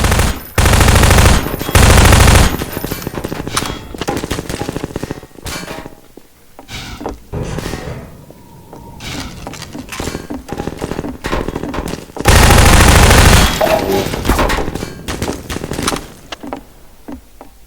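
Bursts of SMG fire from Half-Life 2, loud and dense rapid-fire volleys in two long stretches with scattered single shots, impacts and clatter between them, no voices.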